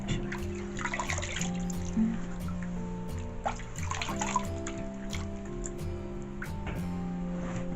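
Tap water runs steadily into a sink during face washing, a constant close rush with splashes and small shifts in flow, with no talking.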